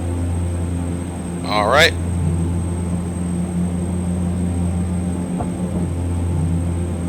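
A Saab 340 turboprop's engines hum steadily in the X-Plane 11 flight simulator on approach to Fairbanks, a constant close cabin drone beneath brief spoken remarks and a short chirping alert.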